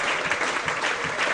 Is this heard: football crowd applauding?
yes